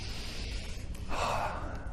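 A single person draws in a deep breath partway through, a short sharp inhale standing out over a low steady background hum, with no talking.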